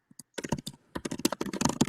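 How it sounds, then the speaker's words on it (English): Rapid, loud typing on a computer keyboard, close-up clicking keystrokes in quick bursts with a brief pause midway, no voices. "Brian, your keyboard's super loud"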